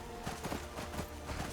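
Horse hooves clip-clopping in Skyrim, a quick irregular patter of soft thuds over an ambient bed, moderately close and without speech.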